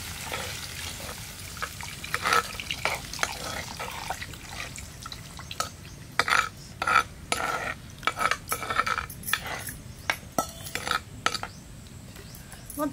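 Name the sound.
tamarind juice being poured into dry fish curry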